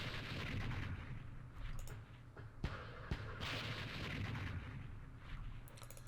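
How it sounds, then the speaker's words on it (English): Mortar direct fire in the Vietnam war game Campaign Series Vietnam, at the Battle of Ap Bac: a steady rumbling battle backdrop with two sharp, loud blasts in the middle and a few smaller pops near the end. "Let's use our mortar with direct fire on that hex"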